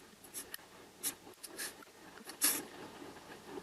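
Marker or chalk strokes on a board while a chemistry diagram is drawn, a series of short scratchy bursts with pauses between, close and fairly quiet.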